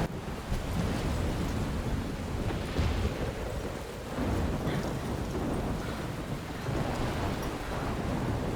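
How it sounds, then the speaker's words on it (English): Rain and thunderstorm in the video game Life Is Strange: a dense, steady roar of downpour with low rolling rumbles swelling and fading throughout, loud and continuous with no speech. "The audio design on this Rain is awesome."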